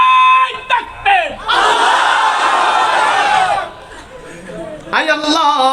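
A gathered crowd at a religious fundraising event shouts a chant in unison, a loud sustained mass of voices, set off by a single voice calling out before and after.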